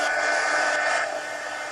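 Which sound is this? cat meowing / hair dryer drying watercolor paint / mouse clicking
hair dryer drying watercolor paint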